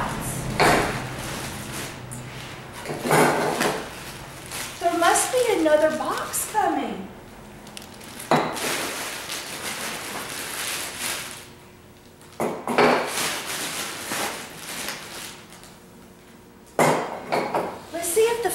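Coffee pots clinking and clattering as they are lifted and unpacked from boxes, with bursts of metallic and glassy knocks and rustling packaging at close range, interspersed with a person talking.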